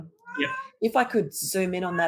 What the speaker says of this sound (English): I apologize for my cat who is now telling me something is terribly wrong.